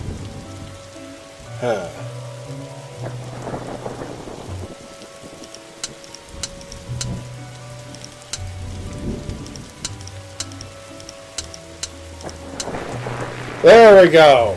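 Steady rain from a storm in the adventure game The Darkside Detective patters softly under a low musical drone, with a brief spoken remark over it and a louder swell near the end.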